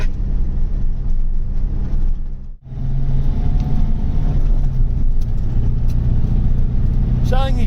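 A 2.8 turbo diesel Iveco Daily van driven at a steady pace, its low engine drone and road rumble continuous and loud, briefly dipping midway, while people talk over it.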